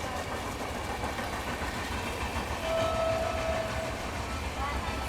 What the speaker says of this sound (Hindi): दोस्तों सामने लाइन से एक और क्रॉसिंग, मेरे हिसाब से पटना तेजस राजधानी है।